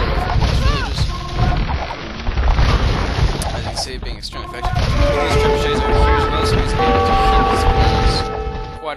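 Trebuchets pound buildings in an Age of Empires II battle, with heavy booming impacts and crashing debris layered over busy combat noise, while a commentator talks throughout.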